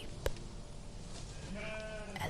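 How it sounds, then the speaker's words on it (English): Sheep bleat faintly from a small flock tended by an elderly shepherd, a short wavering cry rising late over a steady low background hum, with a soft knock near the start. "an elderly shepherd appeared with a small flock of sheep"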